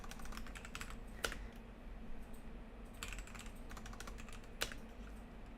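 Rapid keystrokes on a computer keyboard, irregular clusters of clicks with a couple of sharper key strikes standing out, close and moderately quiet over a steady low room hum, no talking.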